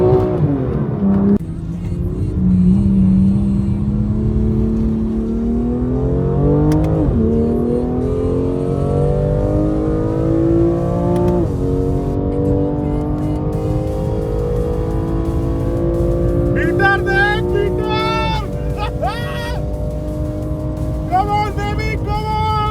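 A 1700 HP Audi R8 V10 accelerates hard on a race track, its engine climbing through gears in loud rising sweeps with brief dips at each shift, steady and close throughout, with faint speech underneath.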